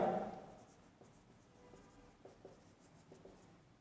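Chalk or marker writing on a board during a chemistry lesson, a quiet run of short scratchy strokes and taps at an uneven pace, following a faint brief sound at the start.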